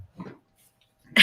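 A large puppy named Kasha snuffling and breathing close by, with a soft huff, brief rustle and a louder sniff at the end, heard alone in short bursts.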